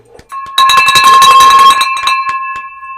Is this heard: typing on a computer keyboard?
no